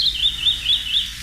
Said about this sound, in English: Our mystery bird is a strikingly beautiful scarlet-bellied southwestern